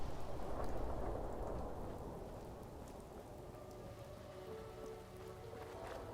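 Steady rainstorm hisses across a broad wash in the Fallout 4 game world, with low rumbling thunder underneath, continuous and fairly loud throughout with no talking.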